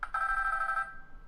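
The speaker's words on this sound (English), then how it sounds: "Oop, phone ringing again." A telephone bell rings in a single short electronic burst, a bright steady tone that cuts off after under a second, leaving faint room hum.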